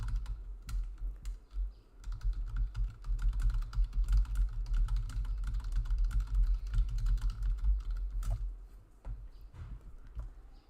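A computer keyboard is typed on steadily for several seconds, its clicks quick and irregular, fairly faint against a low background hum, with no talking.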